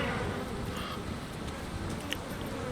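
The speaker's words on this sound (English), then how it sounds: "I hear buzzing." A dense, steady drone of buzzing insects from a swarm in the game Grim Dawn, filling the space as constant ambience with no breaks and no voices over it.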